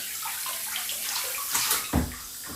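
Hot water pours steadily in a bathroom, a close, even rush of splashing with a couple of brief louder splashes near the end, no talking over it.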